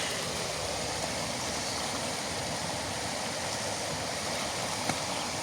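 A forest river flows steadily in a continuous broadband rush and gurgle, close and even throughout, with no voices over it.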